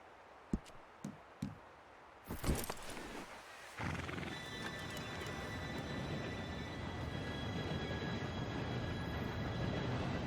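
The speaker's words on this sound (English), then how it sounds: "Train should be here any minute now." A train arrives in the Red Dead Redemption 2 video game: a few hoof knocks and a horse whinny come first, then a loud, steady rumble with a hissing wash swells in and holds to the end, with no talk.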